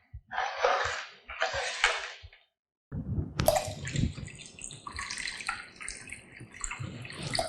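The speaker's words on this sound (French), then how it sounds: "On rajoute de l'eau." Water poured into a pot of harira soup in a pressure cooker, a splashy pouring stream close up after a couple of short bursts and a brief pause, continuing steadily to the end.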